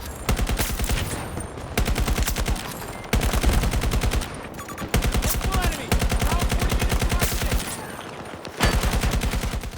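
Rapid automatic weapon fire in Battlefield 2042 rattles almost continuously in loud, dense bursts with brief breaks, with no voices.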